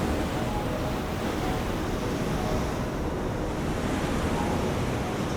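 A steady, dense roar of stormy sea waves in the game Fantasian Neo Dimension, full and unbroken with a windy hiss on top, continuous throughout without distinct crashes or voices.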